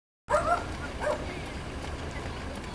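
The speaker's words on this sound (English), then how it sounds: "oh, there's a dog crossing now. There's a little dog creating a bit of a havoc" A small dog at an outdoor cross country race gives a few quick high yips and barks early on, then the sound settles into open-air crowd ambience with faint voices.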